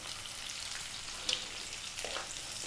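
Sliced onion sizzles steadily in a hot pan over medium heat, a soft, even frying hiss with a couple of faint stirring clicks.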